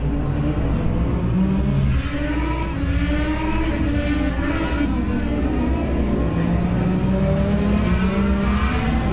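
Race cars racing at Circuit of the Americas, loud sustained engine whine with shifting pitch as the cars pass and rev, steady and continuous throughout.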